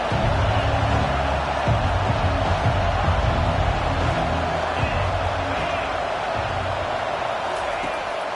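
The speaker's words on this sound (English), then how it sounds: "This crowd bringing the energy and noise early." A large football stadium crowd roars in a dense, continuous wash of noise, loud and sustained, with a voice talking over it.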